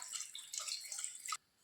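Water poured from a cup into a pot for goat leg soup, a steady splashing trickle that runs continuously for over a second, then stops abruptly.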